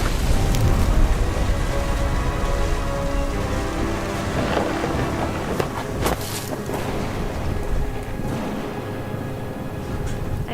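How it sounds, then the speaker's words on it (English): Steady rain and rolling thunder from the What Remains of Edith Finch video game, a dense constant storm wash with deep rumbles, laid under a sustained musical drone. "The thunder sounded much too close and full of angry power."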